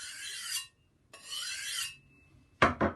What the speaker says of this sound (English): I'm just going to wipe this across this steel